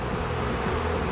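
Dozens of stinging bees buzz inside and around a man's mouth, packed at the back of his throat, giving a dense, steady, close-up drone with no talking.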